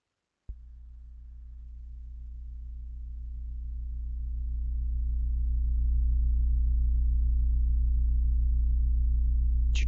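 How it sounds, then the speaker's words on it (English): A recreated, very deep bass tone representing sound waves from the black hole in the Perseus galaxy cluster starts abruptly and then holds steady, swelling gradually louder for nearly ten seconds before ending with a faint click. "that really deep bassy sound that corresponds to the sound waves emanating out from this black hole in the center of the galaxy in the Perseus galaxy cluster"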